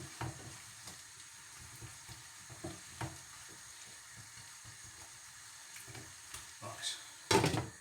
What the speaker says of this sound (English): Whoa, we're boiling.